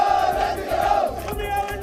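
Crowd of protesters at a rally in Sanganer, a loud, close mass of voices with rhythmic chanting and shouting that rises and falls in repeated bursts.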